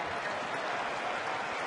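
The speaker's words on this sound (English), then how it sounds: "John Garland getting a big ovation from this home crowd, and deservedly so" A home crowd at a San Diego baseball game gives a big ovation, dense and sustained applause and cheering filling the whole moment.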